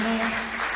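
A church congregation applauding during a service, a short, dense wash of clapping heard close and steady, with a voice or tone sounding beneath it.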